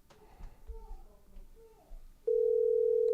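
A steady telephone dial tone cuts in abruptly and holds loud and unbroken, preceded by faint background chatter and handling noise at a lawn equipment expo in Louisville.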